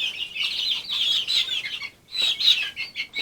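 Young chickens in a chicken coop give high, rapid peeping clucks and chirps, a busy close-up chorus with a brief lull partway through, no voices over it.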